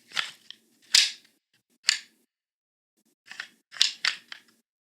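Sharp clicking of deer antlers tapped lightly together to imitate sparring bucks, a handful of separate taps in two short bursts with a silent gap between them.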